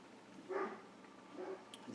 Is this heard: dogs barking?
yes